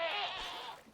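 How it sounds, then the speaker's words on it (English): Quantum Goat in the Minecraft modpack FTB Skies giving a single short, wavering bleat, close and clear, fading out within a second, with no talk. "I've had a few visits from the Quantum Goat here lately"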